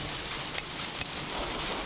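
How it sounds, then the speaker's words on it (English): Hail falls outdoors near the woods as a steady, close patter of small impacts, with a couple of sharper ticks standing out. "Got a little bit of hail coming in."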